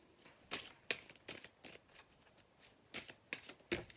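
Oracle cards being shuffled by hand, a run of crisp, close riffling bursts in an irregular rhythm, heard alone without any voices.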